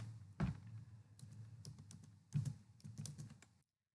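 Typing on a computer keyboard while entering a spreadsheet formula, a quiet run of irregular key taps with a couple of heavier thunks, close but soft, ending abruptly in silence.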